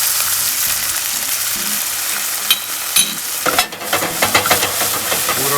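Sirloin steak sears in hot oil in a pan, a steady loud sizzle with scattered crackles and a few clinks of a utensil stirring and shifting the meat near the end.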